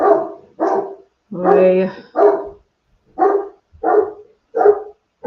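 Dog named Higgins barking excitedly indoors, a close series of about seven loud, evenly spaced barks with short pauses, one longer yowling bark early on, and a brief spoken word.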